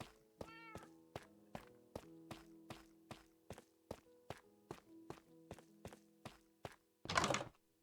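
Cats in Minecraft meowing near the spawn point, a steady run of short, evenly spaced tones at roughly half-second intervals, fairly quiet and heard alone, ending with a brief louder burst.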